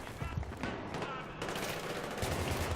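Sustained automatic gunfire in the video game Battlefield 3, a dense, loud stream of rapid shots with a heavier burst of firing near the end and no talking.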